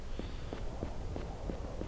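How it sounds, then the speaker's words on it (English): Footsteps in the video game Aidyn Chronicles: The First Mage, a series of soft, regularly spaced steps, roughly three per second, faint over a low steady ambient hum. "I hear footsteps."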